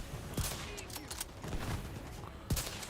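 Faint gunfire from The Division 2 video game, with a few sharp shots standing out against a busy, noisy background of battle.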